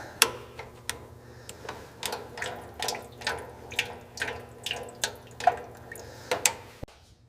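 Sludge and varnish drain from a 1965 Sunbeam Tiger carburetor, heard as a run of close, irregular drips and small splats over a faint steady background.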